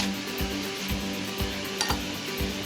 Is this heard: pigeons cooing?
no